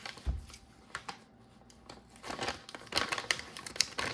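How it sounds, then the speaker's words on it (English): Plastic foil packet of an ASE survival ration being torn and pulled open up close, with crinkling and rustling in irregular bursts that grow busier toward the end. "So let's pull this thing open, and you just tear this like you would a freeze-dried camping meal"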